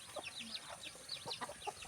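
A rooster in a village yard clucks in quick, repeated soft calls, fairly close, with other chickens chattering faintly around it.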